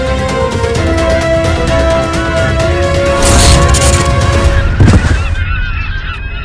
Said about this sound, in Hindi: पक्षियों का समूचा झुंड आ रहा है।